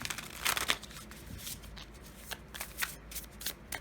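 Tarot cards being shuffled by hand, quick riffling flutters and soft slaps of the deck, fairly quiet and close, with no one talking.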